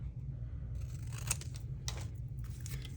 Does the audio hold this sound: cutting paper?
yes